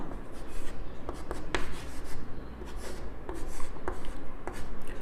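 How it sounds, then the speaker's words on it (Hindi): Chalk or marker scratching out an equation on a board, with short rubbing strokes and a few sharp taps, steady and fairly close, with no voice over it. "मैं उस समीकरण को डायरेक्ट लिखता हूं"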